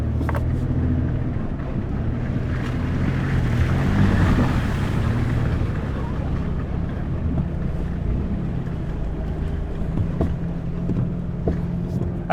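A Chevy Colorado truck in 4 high on an off-road park trail drones with a low engine rumble and rough, rushing road noise that stays steady and fairly loud throughout, with no talking.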